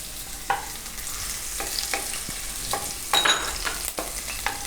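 Green chilies frying in hot oil in a pan while making Gujarati broccoli pakoda, a continuous sizzle broken by irregular stirring scrapes and pops, close and without talk.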